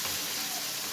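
Coriander frying in ghee and oil over lowered heat, a steady broad sizzling hiss throughout, close and even, with nothing else standing out.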